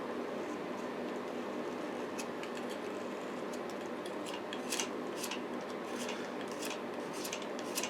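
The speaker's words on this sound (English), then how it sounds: "I've got this Caran d'Ache pencil. I'll just give it a bit of a sharpen" A Caran d'Ache pencil being sharpened by hand, a run of light scraping and shaving strokes with several sharper clicks toward the end, close and fairly quiet over a steady background hum.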